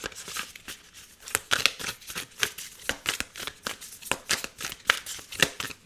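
Oracle cards shuffled by hand in quick, crisp riffling bursts, close to the listener with a steady irregular rhythm and no one talking.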